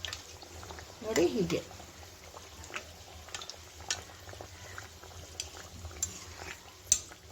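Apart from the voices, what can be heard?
kachori frying in hot oil, oil spooned over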